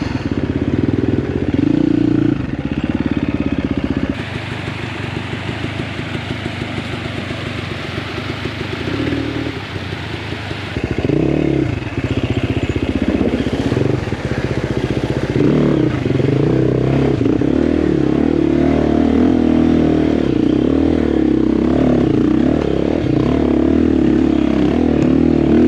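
A dirt bike on a rough trail in the Idaho high country, its engine loud and close, revving up and down with clattering and scraping from the terrain as the rider works through a rugged section.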